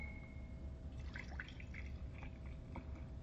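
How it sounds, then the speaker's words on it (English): Milk trickles into a stemmed glass in small, faint dripping and gurgling bursts over a steady background hiss, with no talking. "I'm gonna pour a little bit more milk in here."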